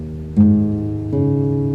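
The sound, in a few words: guitar played in E-flat tuning, down half a step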